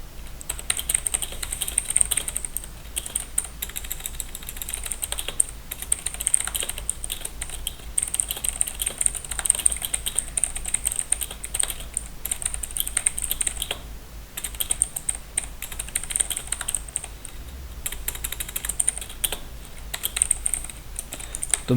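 Someone types continuously on a computer keyboard, a steady stream of close, crisp key clicks under a faint background hiss that lasts throughout.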